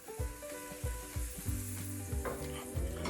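Pancake batter sizzles in a buttered frying pan, with steady close-up frying hiss and repeated soft scraping swirls of the pan; no talking.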